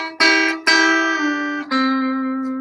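An electric guitar note is picked at the 7th fret and bent up to the pitch of the 9th fret, with three clear plucks where the bent pitch slides and rings out, close and clean.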